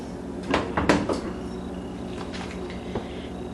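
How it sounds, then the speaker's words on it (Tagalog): An oven door being shut in a home kitchen, a couple of quick thumping knocks and a clack close by, then a faint click in a quiet room. "isara muna natin yung oven door"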